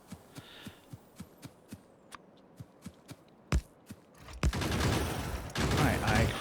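Gun turrets firing in the game Factorio: evenly spaced muffled shots in a steady rhythm, then a couple of heavier bangs before a dense, continuous roar of gunfire builds up.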